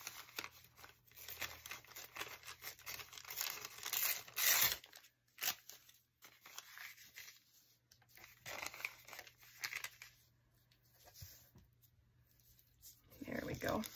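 Paper ephemera for a scrapbook journal torn by hand to size, several close, crisp ripping and crinkling passes in bursts with brief pauses between them.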